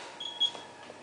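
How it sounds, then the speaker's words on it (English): A kitchen timer gives a few short, high electronic beeps in quick succession, faint against a quiet room, while a shepherd's pie finishes in the oven. "I'll just go and turn the timer off."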